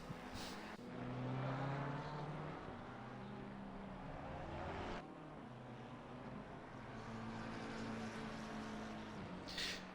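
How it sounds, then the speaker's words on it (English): GT3 race car in a sim racing game sweeping past, engine note swelling then fading with gear changes, a second car following moments later, fairly quiet and with no talk. "The number 43 car is coming around now."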